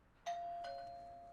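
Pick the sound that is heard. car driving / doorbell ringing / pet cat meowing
doorbell ringing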